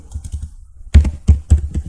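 Rapid taps on a computer keyboard while a MySQL query is entered in MySQL Workbench: a few soft keystrokes, a short pause, then three louder, evenly spaced clacks, close and clear.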